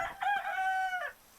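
A chicken in the medieval video game Medieval Frontiers lets out a single drawn-out, tonal call lasting about a second, close and clear against a quiet background.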